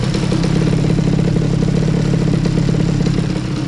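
A de-restricted scooter fitted with a Yasuni C30 exhaust holds a loud, steady, close-up engine note that rises slightly as it is revved, with a crackling, buzzy exhaust tone and no talking.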